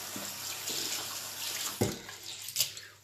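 Cold running water from a tap as a face is rinsed after a purifying mask. It makes a soft, steady trickle with a few sharper splashes, close but fairly quiet.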